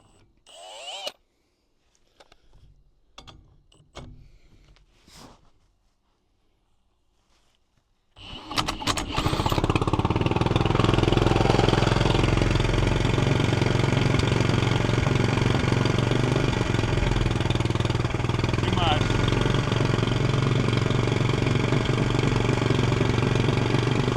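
A Briggs and Stratton small engine fitted with a turbo, started using oxygen and acetylene: a few sharp pops and rattles, then it catches and roars into a loud, steady close-up run.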